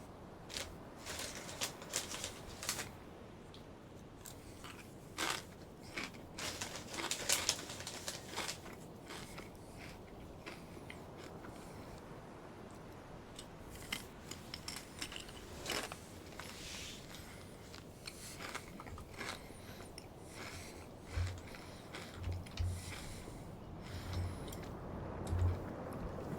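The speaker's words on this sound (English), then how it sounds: "So, yeah, sorry for the munching noise," Someone munches a late-night snack up close, with faint intermittent crunching and chewing against a quiet background hum.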